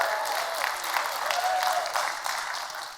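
An audience at a motivational speaking event applauding and cheering, a dense wash of clapping with scattered whoops, fairly close and sustained, then tapering slightly at the end.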